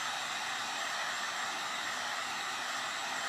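A hair dryer blows hot air steadily onto a thin clear plastic ornament, a close, loud, even rushing hiss that holds without a break for the whole stretch.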